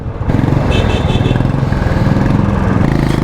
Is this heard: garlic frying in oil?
no